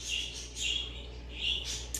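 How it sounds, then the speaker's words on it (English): Pet birds indoors chirp in short, bright bursts, about four quick tweeting phrases spaced across a couple of seconds, faint and with no voices over them. "do y'all hear that? My birds are going crazy."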